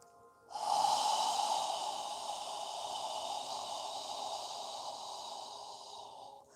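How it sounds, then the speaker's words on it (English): A long, steady nasal inhale during a yoga breathing exercise, close and fairly soft, with a faint airy hiss lasting several seconds and no talking. "Inhaling, filling your lungs, breathing through your nose."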